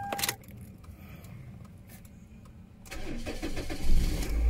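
A Toyota RAV4 XA20 facelift five-door SUV's engine cranking on the key and catching, first a brief key click, then a quiet stretch before the motor fires and settles into a near, steady run without talk.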